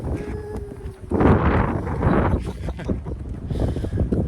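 Wind gusting across a microphone on the California shore, a loud rumbling buffet that swells after the first second and holds steady, with faint voices underneath.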